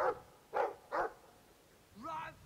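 A war dog in the Dragon Age 2 video game gives three short, close barks in quick succession, followed by a longer, rising whining yelp.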